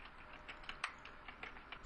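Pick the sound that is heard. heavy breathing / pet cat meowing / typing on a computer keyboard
typing on a computer keyboard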